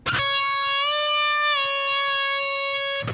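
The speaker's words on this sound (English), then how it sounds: "bend up a half step, release the bend" A single sustained distorted bass guitar note, played at the 14th fret of the B string, bends up a half step and drops back down, ringing clearly and alone for about three seconds.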